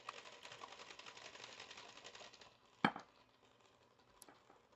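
A stand mixer on low speed whirs steadily while mixing frosting as sifted powdered sugar goes in, then eases off before a single sharp clank.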